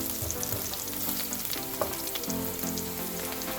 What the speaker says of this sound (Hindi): अभी हरी मिर्चें थोड़ी सी और सौते हो जाएं कि हरी मिर्चों का थोड़ा सा कलर चेंज हो जाए।